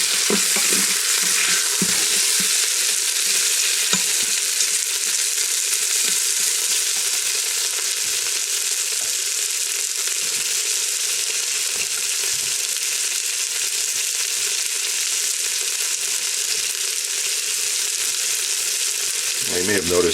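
Vegetables for a stir fry frying in a pan, a loud, steady, dense sizzle that holds without a break, with faint scraping stirs now and then and no voices.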